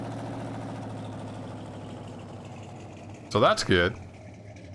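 A tractor in Farming Simulator 19 idles with a steady low engine drone, its transmission being run hard, while someone talks briefly over it near the end.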